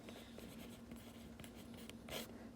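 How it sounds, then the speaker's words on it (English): Pencil or pen scratches numbers onto paper in a quiet room, soft close-up strokes in short bursts with one louder scrape near the end, over a faint steady hum. "I'm going to write this vertically"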